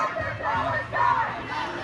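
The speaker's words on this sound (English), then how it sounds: "It's a reasonably good sized crowd. I would say, you know, several hundred." A crowd of several hundred people at a student strike for Palestine fills the air with a continuous, moderately loud murmur of voices and distant chanting, outdoors with no single voice standing out.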